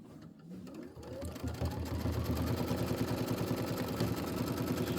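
Sewing machine stitching a quilt block, starting up and settling into a fast steady mechanical whirr and rapid needle clatter, close and continuous, no voices.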